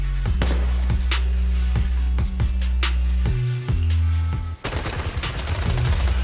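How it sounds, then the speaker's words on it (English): Dense, rapid suppressive marching gunfire in a video game rattles in steady bursts, loud and continuous, with a shift to heavier overlapping shots near the end over a low rumbling backdrop. "Gunfire? This pattern. Suppressive marching fire."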